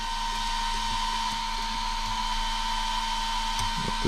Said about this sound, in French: Il pulse ton ventilo